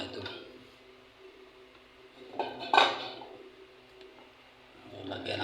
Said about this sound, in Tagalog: Sasalang na natin ang ating kasirola.